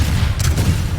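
Tank cannon fire in PlanetSide 2 striking a Vanguard tank: booming shots and impacts over a rumbling low battle din, with sharp bursts near the middle and end.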